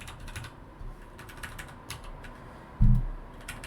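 Clicks of typing on a computer keyboard come in scattered, quiet bursts, with a louder thump near the end.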